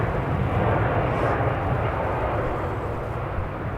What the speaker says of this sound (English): How's the jet sound coming through on the feed, people?